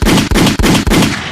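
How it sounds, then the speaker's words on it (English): Four loud, rapid booming gunshots from a sound effect, evenly spaced in quick succession, with the last blast trailing off into a short decay. "Gunshots, man."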